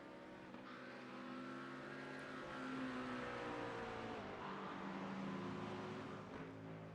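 Race cars sweep through a corner at Oulton Park, a steady engine drone that swells and holds at a moderate distance with no one talking.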